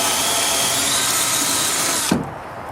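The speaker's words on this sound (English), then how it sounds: "Hole drilling is the most important thing." A power drill whines loudly and steadily as it bores a hole, then stops abruptly near the end, leaving a short fading tail.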